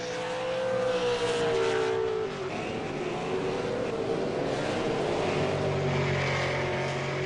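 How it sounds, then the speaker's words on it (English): V8 Supercars racing at Phillip Island circuit: a loud, continuous drone of high-revving engines with shifting pitch as cars run side by side, steady throughout with no break. "Live, they're back side by side, still going at it with damaged cars."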